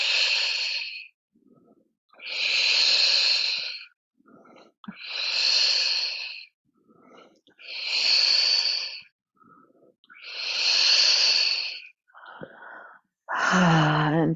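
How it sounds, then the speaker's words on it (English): Strong, forceful exhales from a yoga breathing exercise, about six long breaths in a slow, steady rhythm, close and clear with soft inhales between. "strong exhales are what's working for you here"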